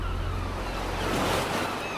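Ocean waves at the seashore: a continuous wash of surf with a soft swell rising near the middle, mixed with a little wind, steady and alone with no voices.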